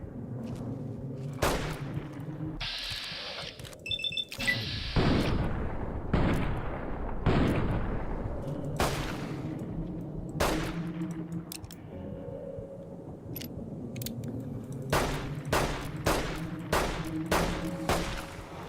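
Repeated gunshots in Fallout: New Vegas Dead Money, loud sharp reports fired in irregular bursts with several rapid clusters, set over a low continuous game ambience with occasional booming impacts.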